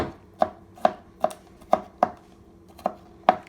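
A knife chops a single garlic clove finely on a board in seven crisp, evenly spaced cuts, each a sharp close knock against a quiet background.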